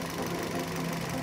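Toyota Yaris engine idling with one ignition coil unplugged, a steady rough mechanical hum with fast continuous ticking, close and alone.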